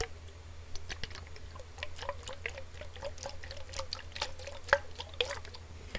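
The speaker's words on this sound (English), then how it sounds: "The most water sounds I can make is with my water bottle" Water sloshing and dripping inside a water bottle, with quiet, irregular drips and small clicks close up and soft throughout.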